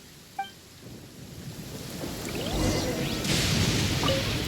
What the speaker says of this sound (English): Uh-oh! Lightning storm!